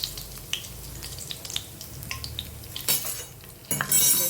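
Cumin seeds and curry leaves hitting hot oil in a pan, a crackling sizzle with scattered pops and spoon scrapes that swell into louder spitting bursts toward the end.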